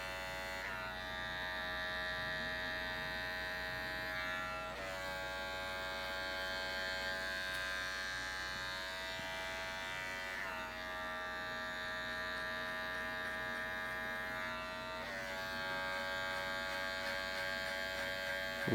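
An electric hair clipper buzzes steadily and close up while trimming a men's fade haircut, its whine dipping briefly at intervals as the blade is moved over the head.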